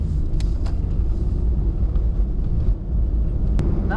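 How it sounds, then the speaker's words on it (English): A 2003 Toyota RAV4 L with a four-speed automatic accelerating on the road, a steady low engine and road rumble heard from inside the cabin, with a few faint clicks. "Once you start driving the RAV4 a little bit longer, you do kind of get used to the acceleration"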